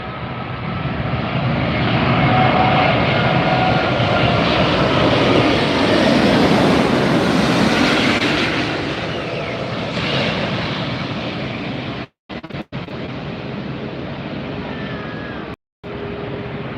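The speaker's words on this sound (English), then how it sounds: "You got here just in time for the Asiana A380." An Asiana Airbus A380 airliner at Los Angeles International Airport roars past close by, its broad, sustained jet engine noise swelling and then slowly fading, with a few brief dropouts near the end.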